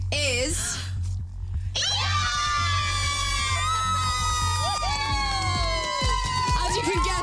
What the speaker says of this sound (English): As you can guess from the screaming